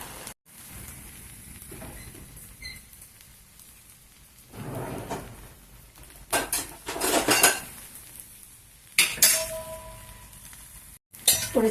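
A spoon scrapes and clinks against a pan as egg rice with eggs is stirred slowly, giving irregular metallic knocks and scrapes in bursts separated by quiet gaps.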